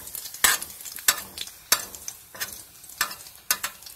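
Brik pastry, a Tunisian spring-roll-style parcel with burger filling and sealed edges, frying in oil, with a steady sizzle broken by six or seven sharp scraping or spatula knocks at regular intervals, fairly close, no talk.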